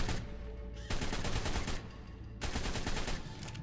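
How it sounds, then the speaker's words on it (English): An assault rifle in ARK Survival Evolved fires rapid full-auto bursts, three long strings of rattling shots separated by brief pauses, loud and close. "let's just see how good this assault rifle really is"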